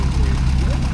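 An Oliver 7302 gas tractor rolls past in a Fourth of July parade, its engine a steady, loud, close low rumble, with someone talking faintly over it.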